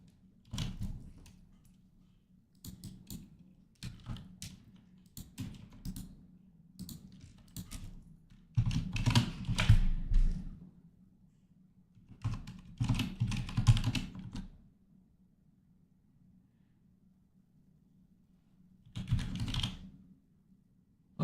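Computer keys are typed close by in short clustered bursts separated by quiet pauses, with a few heavier runs of clacking keystrokes and no voices.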